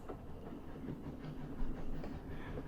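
A train rolls into a station in the 80 Days video game, with faint rhythmic clattering and rumbling of wheels on rails and soft clanks building slightly toward the end.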